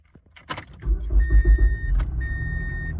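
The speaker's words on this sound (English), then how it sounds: "we're gonna start the car up" A car engine cranks and catches after a jangle of keys, then settles into a low, steady idle close by, with a thin whine running over the rumble.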